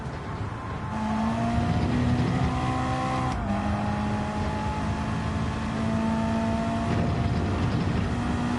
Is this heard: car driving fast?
yes